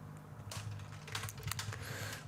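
Fingers tap on a computer keyboard in quick, uneven bursts of close clicks over a low background hum.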